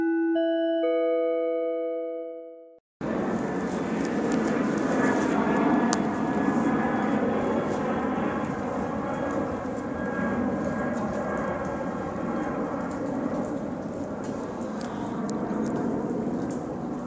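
A commercial airliner passes overhead at 2:26 a.m., a steady, broad roar of jet engine noise holding for about fourteen seconds after a few tonal chime-like notes at the start.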